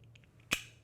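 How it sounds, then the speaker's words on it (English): A plastic Ergo Nut lid press-fitted over a stainless steel wing nut, giving one sharp, close snap that rings briefly, with faint handling noise before it and a small tick at the end. "you take the lid of the ergo nut, press fit it in place"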